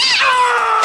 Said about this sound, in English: It was just a cat.